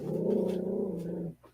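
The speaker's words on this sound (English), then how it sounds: "Pop's dog also objects to Tucker being on the Jupiter 2." Pop's dog in a Lost in Space episode lets out a single sustained low growl, close and loud, that cuts off abruptly, with no talk over it.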